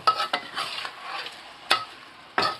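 Kaffir lime leaves dropped into hot oil and stirred, giving a soft sizzle broken by sharp scraping clicks of a utensil against the pan.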